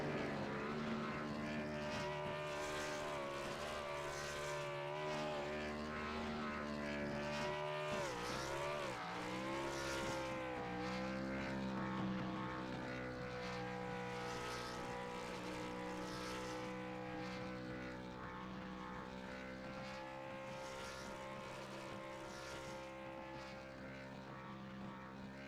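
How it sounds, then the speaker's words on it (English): A simulated race car in the iRacing game roars through a sustained high-revving burnout at Phoenix Raceway, a brief sputtering dip marking the engine blowing before the harsh drone resumes steadily. "Channing Ballou, as he just blew the engine there during his burnout"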